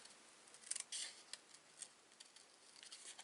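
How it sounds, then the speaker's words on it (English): Scissors snipping out a paper butterfly in a craft session, quiet close crisp cuts in short uneven bursts with small pauses between. "I'm going to trim out my sentiment after I've cut out my butterfly"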